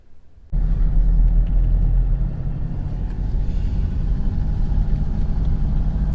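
A car engine starts abruptly and then runs steadily as the car drives along small, bumpy Suffolk roads, a loud, continuous low rumble with road noise and no talking.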